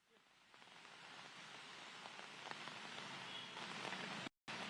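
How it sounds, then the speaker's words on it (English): Heavy rain pours down steadily on surfaces in a downpour, a dense continuous hiss that builds slightly in loudness before a brief dropout near the end, with no voices. "it is currently raining heavily at this particular place"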